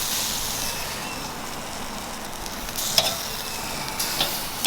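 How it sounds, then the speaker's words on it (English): Butter sizzling on blacktip shark meat over a fire grill, a steady broadband frying hiss with a few sharp crackles and pops late on, no talking. "Fire grilled butter."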